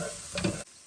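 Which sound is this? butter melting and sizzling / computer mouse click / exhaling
butter melting and sizzling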